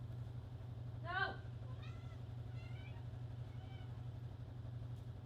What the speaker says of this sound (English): my cat is trying to eat my makeup brush